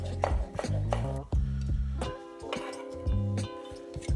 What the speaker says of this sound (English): bunch them up and finely chop them